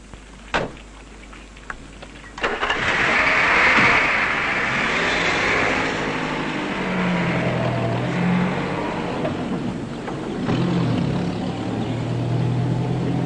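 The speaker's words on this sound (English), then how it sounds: "Kurdish jeep arrived to guarantee the camera's safe conduct to the battle zone" A Kurdish jeep on a hill road approaches with a few knocks, then its engine surges into a steady, close drone. The motor rises and falls in pitch as it drives toward the battle zone.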